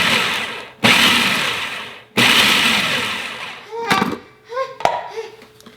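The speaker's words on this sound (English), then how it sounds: "I'm just gonna pulse this and let it kind of come together" A food processor pulses oats with melted butter: two long whirring bursts with short silent gaps between them, then several brief pulses and rattling knocks as the mixture comes together.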